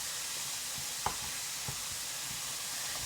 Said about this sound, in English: We're just going to soften the onions and brown the ground beef.